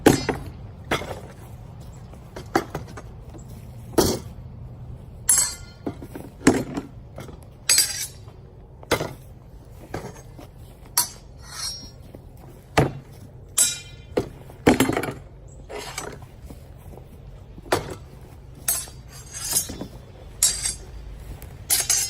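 Blunted steel weapons clash again and again in a Viking combat drill, sharp metallic strikes arriving in quick bursts of about three, close and loud, with short pauses between the exchanges.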